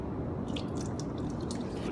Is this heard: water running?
yes